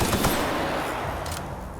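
A brief, dense burst of rapid gunfire in The Outer Worlds, loud and continuous before tapering off within a couple of seconds.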